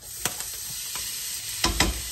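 Salmon fries in a pan with a steady bright sizzle, broken by a few sharp clicks and scrapes of a spatule against the pan.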